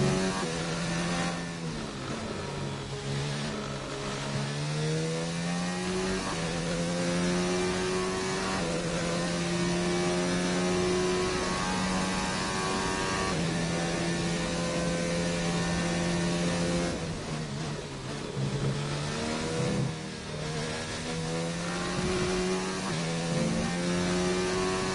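Worn Formula 1 car engine in the F1 2019 racing game, rising and falling through long high-pitched revs with gear changes, a loud continuous harmonic scream that dips and climbs again, no voices.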